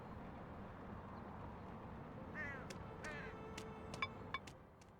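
A bird cawing in the video game Elroy and the Aliens, a few faint harsh calls rising over a steady low ambient hum, followed by a couple of short sharp ticks.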